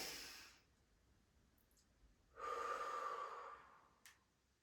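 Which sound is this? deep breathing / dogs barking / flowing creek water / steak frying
deep breathing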